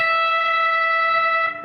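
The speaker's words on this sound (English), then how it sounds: "I'm going to bend the 15th fret of my B up a full step" A distorted electric guitar holds a sustained note bent up a full step at the 15th fret of the B string in a solo, one steady buzzing tone that fades briefly at the end.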